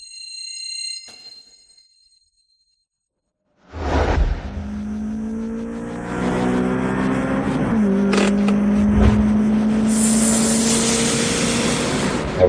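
After a short silence, a car roars in and drives fast, its engine rising and shifting through several pitch sweeps, loud and continuous with a whooshing edge.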